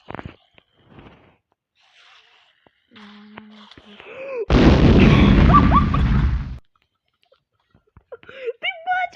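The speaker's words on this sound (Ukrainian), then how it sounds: "я кинув гранату" Grenade explosion in the Minecraft video game, a loud roaring burst lasting about two seconds between quiet gaps, with scattered game sounds and faint speech around it.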